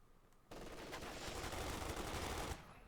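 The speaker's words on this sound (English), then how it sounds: "Pioneers being shredded here by the incendiary armor piercing rounds" Incendiary armor-piercing rounds fired in Company of Heroes 2: a sustained two-second burst of rapid machine-gun fire, quiet and somewhat distant, after a near-silent lead-in.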